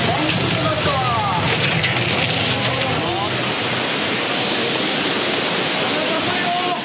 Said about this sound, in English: The black debris-filled water consumes the school playground they ran across just moments earlier